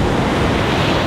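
Sea waves wash onto the shore at Alexandria in a loud, dense, continuous roar, mixed with wind buffeting the microphone.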